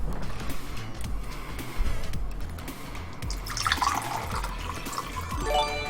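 Water runs from a tap into a container, a soft splashing stream that swells and brightens in the second half, with scattered drips and clicks around it and no talking.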